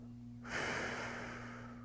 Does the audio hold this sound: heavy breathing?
yes